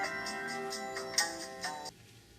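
A phone rings with a short repeating electronic melody of bright pulsed tones for about two seconds, then cuts off into quiet.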